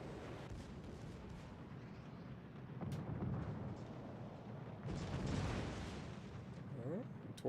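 Torpedoes strike a warship in the naval battle game World of Warships Legends: a few deep, rumbling booms swell and fade over a murky background of low battle noise, at moderate loudness.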